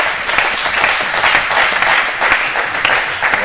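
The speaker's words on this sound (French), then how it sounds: "on acclame la parole" A church congregation applauding during a service: a dense, steady wash of many hands clapping, loud and continuous, with a few voices faintly mixed in.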